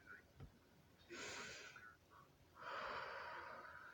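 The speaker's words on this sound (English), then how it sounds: "take a few deep breaths with me" Two deep breaths drawn in through the nose, each a soft rushing inhale lasting about a second, close and fairly quiet with no talk over them.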